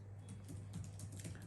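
Rapid clicking of a computer keyboard as a command is typed, a steady run of close keystrokes over a low constant hum, with no voices.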